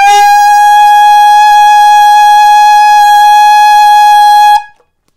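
A high F sustained on an alto saxophone, fingered with the side keys: one steady, bright, reedy note held for about four and a half seconds at full volume, then cut off cleanly, with no voices.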